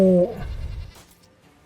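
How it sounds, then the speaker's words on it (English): A short electronic goat or sheep bleat from the Gwent card game, wavering and clear for a fraction of a second before fading into a quiet background. "that's why I made the goat or the sheep noise"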